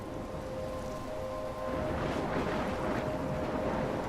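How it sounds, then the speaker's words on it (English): Howling storm wind in the video game Life Is Strange roars as a dense, continuous rush with a low rumble, loud and steady, with no voices over it. "I'm trapped in a storm?"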